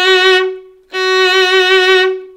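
Violin vibrato at full speed on a sustained F sharp, bowed as two long notes with a brief break between them, the pitch wavering steadily and close, with no talking.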